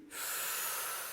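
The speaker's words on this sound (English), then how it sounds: "Let's all try breathing in and out together." A group breathing in unison during an exercise, a sudden steady airy hiss that starts abruptly and holds, fairly close.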